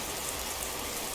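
Steady rain falls over Falkreath in the video game Skyrim, an even broadband hiss with no breaks or distinct drops, alone and fairly quiet throughout the short stretch.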